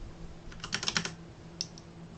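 A short burst of typing on a computer keyboard, with several quick close key clicks in a cluster followed by two lighter taps, quiet over a faint background hum.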